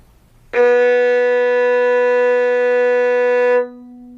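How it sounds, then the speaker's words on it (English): A violin sounds a low B on the G string, stopped with the second finger: one steady bowed note held for about three seconds, clear and alone, with a rich tone. "with the second finger, we have a low B on the staff"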